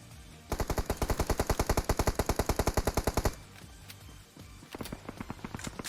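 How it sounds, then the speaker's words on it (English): Rapid automatic gunfire in a competitive scrim match of a video game: a steady burst of about two dozen shots, then a pause and a few scattered, quieter shots near the end. "I'm hearing some shots."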